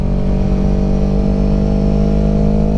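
Motorcycle on Pirelli Diablo Rosso IV tires powers out of a turn, its engine a loud, steady, close droning growl that holds strong throughout with no pauses.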